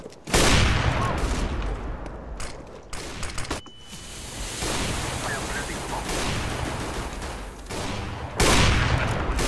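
Pistol fight gunfire in the video game CS:GO, loud bursts of shots with dense, noisy action, sustained over several seconds with a heavy blast near the end.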